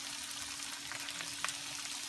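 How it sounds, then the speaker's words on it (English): Fried tofu sizzling in a pan with a spicy teriyaki glaze as it caramelizes, a steady soft frying hiss with a few small pops and crackles. "Now we're gonna put our fried tofu in. We're gonna let it caramelize and"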